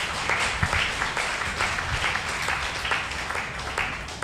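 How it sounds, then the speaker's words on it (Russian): Applause from a church congregation at a summer fasting service, a broad continuous clatter of many clapping hands, fairly loud and sustained with slight surges. "Я бы аплодировал на вашем месте."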